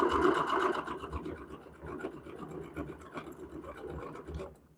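A sewing machine runs a single straight line of stitching across quilt squares for a Little Love block, a steady mechanical whir at moderate level with faint rhythmic ticking, no voices over it.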